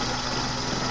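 A 1997 Suzuki Baleno engine idles with the number 1 spark plug wire pulled, a steady, dense, close mechanical hum with no break across the short stretch.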